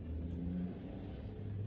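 A loud car engine rumbles close by in a deep, steady drone with a brief revving rise, continuous for the whole short stretch and free of talk.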